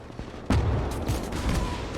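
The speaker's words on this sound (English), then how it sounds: "Katyushas are firing again." Katyusha rocket launchers fire in the WWII strategy game Gates of Hell. A sudden loud salvo erupts, then settles into a dense, sustained rumbling barrage that lasts to the end.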